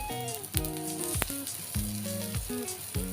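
Jowar flour thalipeeth with vegetables roasting in oil on a pan gives off a steady, close sizzle, heard beneath louder background music with stepping electronic tones.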